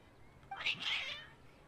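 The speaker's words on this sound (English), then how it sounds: "Your cats seem pretty worked up." Cats meowing in Genshin Impact, a couple of agitated, rising cries standing out over quiet game background noise, moderately close with no talking.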